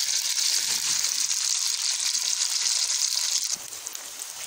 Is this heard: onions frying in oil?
yes